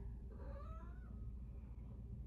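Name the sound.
cat meowing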